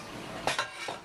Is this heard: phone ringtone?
no